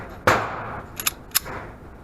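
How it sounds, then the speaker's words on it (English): An M&P 9 Shield Plus pistol fires one sharp, close shot, followed by two quick metallic clicks and a brief clack, without any talking. "We're going to shoot 5 rounds, see how it does"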